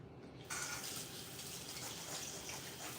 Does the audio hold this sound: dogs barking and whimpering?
no